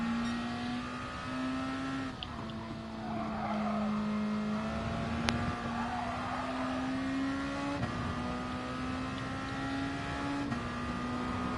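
A race car engine drones steadily in GT Sport, its pitch rising and dipping slightly as the car slides through corners, with no voices over it.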